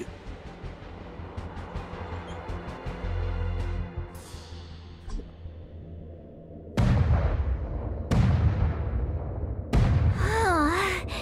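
A gun salute in Honkai: Star Rail thunders as three loud, heavy booms spaced about a second and a half apart, each with a long rumbling decay, following a quieter stretch of rumbling ambience.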